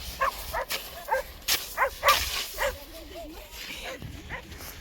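A dog on a long mountain hiking route gives a run of short, fairly close barks and yips, with whimpering sounds in between and faint outdoor background noise.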